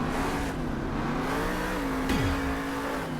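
The Stone Crusher monster truck revving through a freestyle run at a Monster Jam event, a loud, steady engine drone with shifting pitch and one quick downward swoop, surrounded by constant arena noise.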